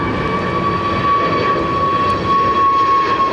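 Emirates airliner lining up on the runway at London Heathrow Airport: a steady, loud broadband jet engine roar with a sustained whining tone, constant throughout and heard from a distance with no voices.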